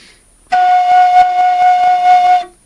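A homemade bamboo flute tuned to F sharp major, blown with a sharp puff to jump to its octave: one clear, loud whistling note held steady for about two seconds, heard alone.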